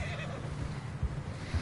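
A horse in Red Dead Redemption 2 neighs and snorts in a low, breathy rumble, fairly faint under soft ambient game sound, with a couple of brief huffs near the end.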